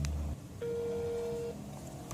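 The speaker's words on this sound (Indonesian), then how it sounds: "Sekarang kita telepon." A telephone call being dialed: a short tone, then a single steady electronic tone held for about a second in a quiet room, followed by a faint fading hum.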